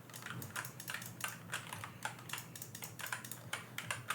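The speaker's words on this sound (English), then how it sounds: "David have the clickiest keyboard in the world? Why is it so clicky?" Very clicky computer keyboard being typed on in steady, fast bursts of sharp clacks, close and continuous with no talking.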